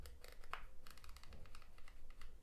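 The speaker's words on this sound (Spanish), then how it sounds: "sí que tiene clics, entonces para vídeo no es tan interesante" Aperture ring on a Viltrox 13mm f1.4 lens for Fujifilm cameras being turned, giving a run of small, soft, close-up clicks in a quick irregular rhythm with no talking.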